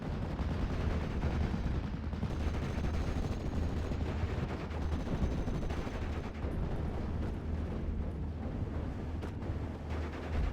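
Sustained gunfire and explosions from Panzer Lorraine vehicles and infantry in a World War II strategy video game battle, a dense, continuous barrage of shots and booms with no speech.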